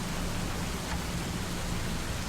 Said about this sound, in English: this rain makes me so sleepy